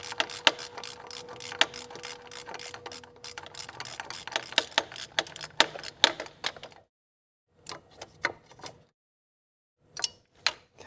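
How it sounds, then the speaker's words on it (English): A small hand ratchet loosens a bolt on a Nissan X-Trail QR25 engine, giving bursts of rapid, close clicking that pause and then return in short clicky spurts. "I can just get a small ratchet in here, because this one not coming out nice"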